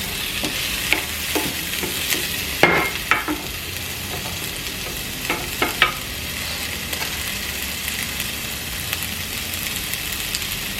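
Food sizzles steadily in a hot pan while a utensil stirs it, scraping and clicking against the pan in scattered strokes over a constant frying hiss, with no talk.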